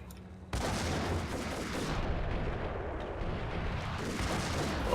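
M79 grenade launcher fired in the game Max Payne, a sudden heavy thump giving way to a sustained rumbling roar and crackle that carries on for several seconds.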